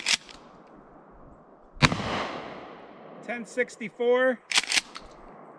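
A Mossberg Shockwave 20 gauge fires #2 buckshot, one sharp loud blast with a ringing decay near the middle and another close to the end, with someone speaking briefly in between.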